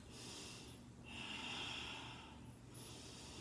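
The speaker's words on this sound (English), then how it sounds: "5 breaths through the nose." Slow, quiet breathing through the nose during a yoga pose, with soft airy inhales and exhales swelling and fading in a steady rhythm, close and alone without any talk.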